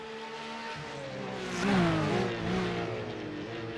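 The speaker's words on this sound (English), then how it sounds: "that Porsche engine still got life in it" A Porsche race car engine in the iRacing sim at Bathurst drones with shifting pitch, swelling louder for a moment midway as revs climb and fall, without any voices.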